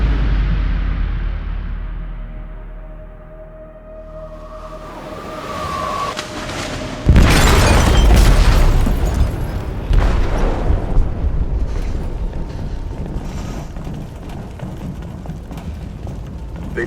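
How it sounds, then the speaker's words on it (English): In the video game Detroit: Become Human, an explosive detonates in a ship's hold, a sudden loud boom after a quiet rumbling buildup, followed by sustained heavy roaring and debris clatter. "They detonated an explosive in the hold."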